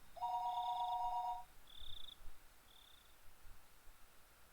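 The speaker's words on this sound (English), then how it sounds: "After I had put down the receiver for a few seconds, the phone began to ring again." A telephone rings in a quiet room with one short electronic ring burst, followed by two fainter high chirps and a low, hushed background.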